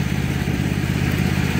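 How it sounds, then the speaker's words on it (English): Small red tractor mowing grass on a scorching day, its engine chugging in a loud, steady low rumble with a rapid mechanical clatter, close by and alone. "Little Red Tractor's doing a sterling job in getting the grass down"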